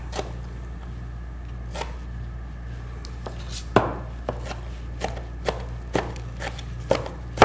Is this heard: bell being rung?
no